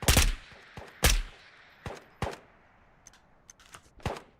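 Gunshots in the video game Ghost of Tabor: several sharp, separate cracks at irregular intervals, two loud and close, the rest quieter, with near silence between them.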